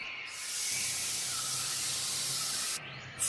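A snake gives a steady, breathy hiss that lasts about three seconds at a soft, even level before stopping abruptly.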